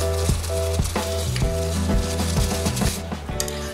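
A pot of herbal tea boils with avaram flowers, dry ginger and cardamom in the water, giving a steady, close, hissing bubble throughout, with tonal background music running underneath.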